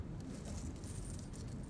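Keys jangle and clink steadily in Life is Strange, a dense metallic rattle that stays close and fairly quiet throughout, with no voices over it.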